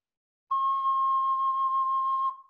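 A single sustained high C note on an ocarina, clean and steady with faint overtones, held for about two seconds before tapering off, played alone and close.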